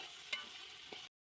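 Chicken being stirred into onions fried in ghee, cooking over a wood fire, makes a quiet steady sizzle with two soft scraping stirs. It stops abruptly after about a second, and no one talks.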